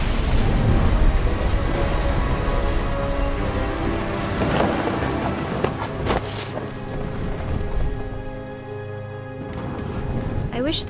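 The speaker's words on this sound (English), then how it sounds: "The thunder sounded much too close and full of angry power." Steady heavy rain with deep rumbling thunder rolls through a stormy scene in What Remains of Edith Finch, a continuous dense wash of sound.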